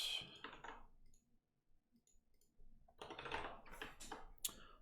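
Keys pressed on a computer keyboard during Go programming on Linux, with a flurry of crisp clicks, a near-silent gap with faint taps, then a denser run of close typing.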